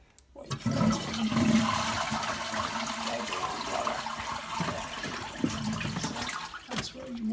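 An Ideal Standard toilet with a faulty, constantly filling flush valve flushes in a loud close rush of water that continues steadily for several seconds, with faint voices nearby.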